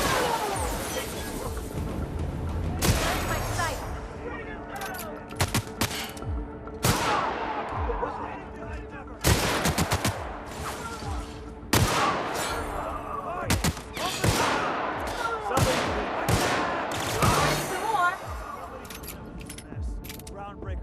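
Chaotic firefight in The Outer Worlds, with repeated bursts of gunfire and sharp shots scattered irregularly throughout, some loud and close, mixed with voices calling out during the fight.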